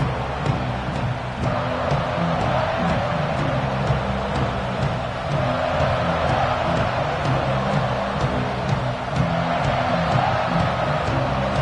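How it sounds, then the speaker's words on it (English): A loud, continuous stadium crowd roar fills a college football video game, a dense rumble of cheering that holds steady throughout, with occasional whoops rising out of it. "this crowd ready to make its presence known."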